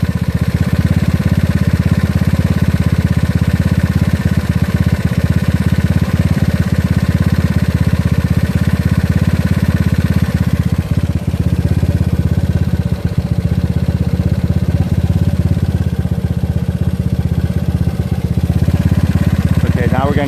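A GY6 scooter engine fitted with an OKO PWK 30mm carburetor runs steadily close by during tuning, a loud continuous drone that holds even throughout with slight shifts in tone and no talk.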